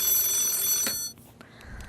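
A telephone ringing in a studio broadcast, a bright electronic ring tone lasting about a second before it stops, with a brief click and quiet room sound after.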